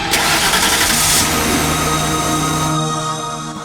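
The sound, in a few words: car engine starting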